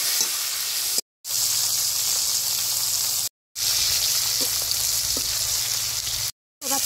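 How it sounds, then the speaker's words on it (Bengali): Rohu fish frying in hot oil gives a loud, steady sizzle that runs almost the whole time, broken by a few short silent gaps, with no talking. "মাছ দিয়ে মাছটা ভেজে নেব আগে।"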